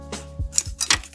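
Plastic sprue on a 1/144 Bandai Macross Queadluun Rau model kit cut with nippers, a few sharp close clicks and snips in quick succession over about a second.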